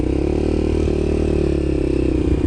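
A motorcycle at CBT training pulls away jerkily, its engine droning loud and close with a steady throb and slight surges of uneven throttle, no talking over it.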